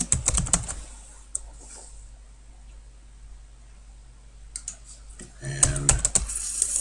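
Computer keyboard keys clack in quick bursts at the start and again near the end, close and crisp, with a quiet stretch between and a brief voice joining at the end.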